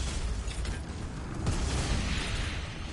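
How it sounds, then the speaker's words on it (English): Rocket launcher firing in Doom 64, a loud continuous burst of explosive rumble and crackling that swells and peaks mid-clip, with deep low booms under bright noisy debris. "Rocket launcher."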